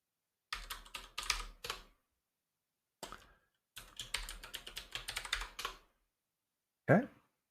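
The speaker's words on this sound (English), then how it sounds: "Type in my local password." Quick bursts of typing as a password goes in on a computer keyboard, close and clear, broken by short pauses and ending in a sharp final key press.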